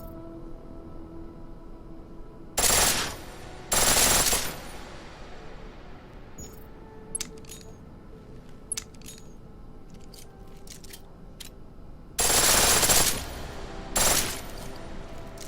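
Gunfire in the video game Deus Ex Mankind Divided comes in several short, loud bursts separated by pauses, with metallic clicks and casing tinkles in between.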